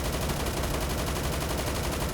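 Rapid sustained automatic fire from an RPK light machine gun cycling at about 700 rounds per minute in the Roblox shooter Phantom Forces, a dense continuous burst filling the whole moment at steady loud level.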